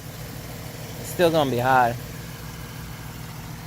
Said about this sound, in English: But yeah, that's the engine.